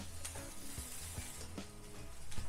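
Shrimp fried rice sizzling in a pan, a soft steady hiss broken by sharp scraping and clinking strokes of a utensil stirring it at irregular intervals, fairly quiet and close.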